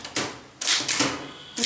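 Typewriter keys clack in short, uneven bursts during a Tamil typing exercise, with fairly close, crisp strikes separated by brief pauses.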